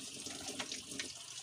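A kitchen tap runs steadily into a sink while plates are washed, a constant close hiss and splash with a few brief spattering bursts.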